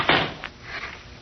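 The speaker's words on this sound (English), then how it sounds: "Please close the door when you go out." A door closes in a radio drama with a single soft thud near the start and a faint second knock just after, followed by a quiet, empty room.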